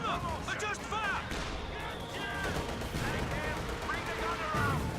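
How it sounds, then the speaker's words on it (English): Howitzer artillery booms from a Company of Heroes 2 battle, set in the Western Front Armies online mode, thumping repeatedly under steady commentary and continuous battlefield din. "tell this howitzer to start firing"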